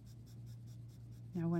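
A 4B graphite pencil drawing on paper, giving a soft, rhythmic scratching of repeated strokes over a low steady hum. A voice starts speaking near the end.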